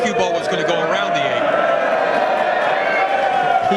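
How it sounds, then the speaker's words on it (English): A crowd at a professional pool match in the Mosconi Cup reacts to a shot with a continuous loud swell of murmuring and exclamations that holds steady throughout. "listen to the crowd"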